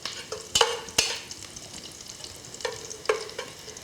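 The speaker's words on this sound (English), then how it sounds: "So to these onions, I'm actually gonna add some flour." Flour being stirred into sautéed onions in a pan for a roux: scattered scraping stir strokes and soft sizzling, close and fairly quiet, with no talking.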